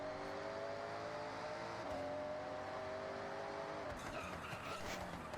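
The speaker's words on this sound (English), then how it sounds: "Show you what the Lincoln Continental can do." A Lincoln Continental in the Forza racing game accelerates with a smooth, moderately loud engine note whose pitch climbs and shifts between gears, with a tire squeal or skid near the end.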